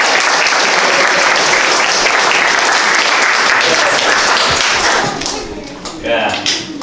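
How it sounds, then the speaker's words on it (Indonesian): An indoor audience at a student presentation bursts into loud, sustained applause, steady for several seconds before thinning into scattered claps as voices begin to murmur. "Kita berikan aplaus."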